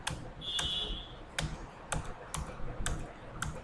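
Computer keyboard keys are pressed while entering accounting data in Tally Prime, a handful of sharp, separate clicks at an uneven pace, close by, with a brief high tone in the background near the start.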